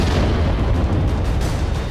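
A loud, dense blast roar from an early-morning explosion in Delhi fills the whole moment, a sustained heavy rumble with no speech.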